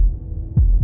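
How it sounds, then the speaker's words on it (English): Heartbeat effect from the video game Slay the Princess: a low, muffled double thump over a steady droning hum, heard up close with no other sound. "That was the sound of a heartbeat"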